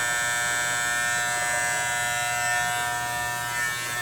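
Electric clippers shaving hair during a forward haircut, a loud, steady, close buzz running without a break and with no talking.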